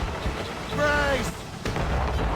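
Explosive cannon shot from a sailing warship in Assassin's Creed Rogue, a single deep boom amid rumbling sea and battle noise, with shouted crew voices over it.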